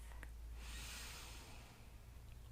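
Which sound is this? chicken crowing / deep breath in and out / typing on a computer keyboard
deep breath in and out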